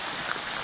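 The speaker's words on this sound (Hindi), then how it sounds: "तो वर्षा देखी पारे बहुत जोर वर्षा" Heavy rain pours in a dense, even hiss, a continuous wash of falling drops with no breaks over a brief moment.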